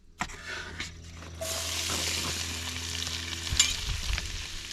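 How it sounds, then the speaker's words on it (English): Onions sizzle as they saute in a pan at a truck campsite, a steady close frying hiss that kicks in abruptly after a few soft knocks and carries on with faint stirring scrapes. "We'll just saute these guys a little bit."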